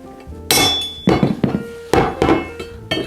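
Hammer blows drive an old disassembled screwdriver used as a punch against a headset race on a mid-1990s Specialized Rockhopper bicycle, four or five sharp metallic clinks with ringing decay, spaced irregularly and loud.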